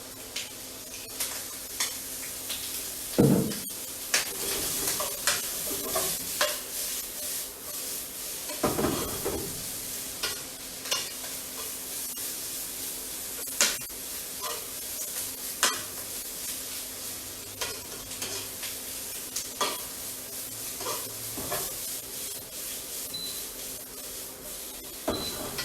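Bacon frying in oil in a pan for an Asian-style creamy spaghetti carbonara, a steady close sizzle with hiss and occasional clanks and scrapes of stirring against the pan throughout.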